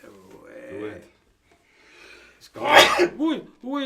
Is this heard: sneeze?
yes